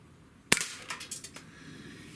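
A single sharp crack from a Sig Sauer X-Five ASP CO2 air pistol, followed by a few faint clattering ticks, outdoors on a cool day.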